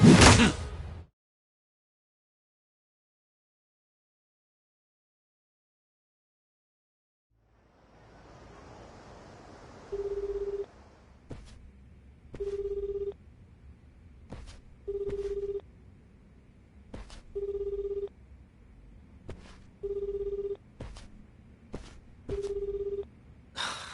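A phone call in the video game Like a Dragon: Infinite Wealth, a short burst of sound, then quiet, dial tones, and a repeating ring tone sounding six times at a steady pace over a soft background hush.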